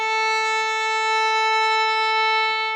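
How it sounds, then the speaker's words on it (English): A violin sustains one long, even whole note on the A string, bowed steadily and clearly close by with no pauses or other sounds. "So if you were to play just one long whole note on the A string, it would sound like this."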